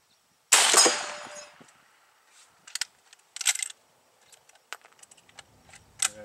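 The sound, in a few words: gunshot from FN FAL (L1A1) rifle at range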